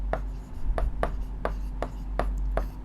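A pen or chalk writes Sanskrit words on a board or page in a steady series of short, crisp scratching strokes, about seven in under three seconds, close and clear over a low hum.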